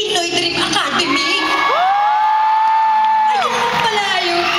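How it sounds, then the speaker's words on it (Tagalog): A crowd of people shouts, whoops and cheers loudly and continuously, with high voices and a rising cheer in the middle, as at a Pinoy Dream Academy reality-show event. "right timing talaga sigawan"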